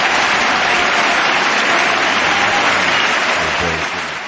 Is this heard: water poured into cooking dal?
no